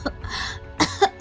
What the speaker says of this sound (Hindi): खांसने लगी।